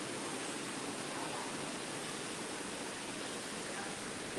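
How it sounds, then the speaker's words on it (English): A waterfall at Magic Kingdom, Walt Disney World, gives a steady, even rushing roar that fills the whole stretch without pause, with no voices over it. "You see the waterfall over here."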